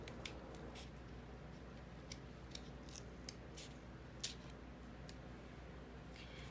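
Scissors snip through paper to trim off the top for a small craft design, quiet, irregular cuts in a hushed room with a steady low background hum.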